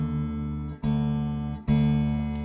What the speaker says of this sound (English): if I tune this low E string down